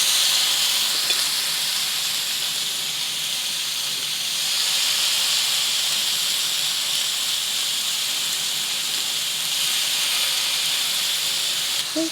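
Chicken satay skewers sizzle on a hot oiled grill pan, a bright, steady hiss running continuously and fairly close, with no voices.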